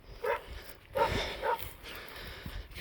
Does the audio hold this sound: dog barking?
yes